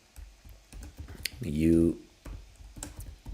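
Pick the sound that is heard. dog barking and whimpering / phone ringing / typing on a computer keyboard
typing on a computer keyboard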